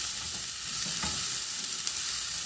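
Peppers and onions sizzle in a pan on lowered heat, a continuous bright crackling hiss, close and even, with no talking.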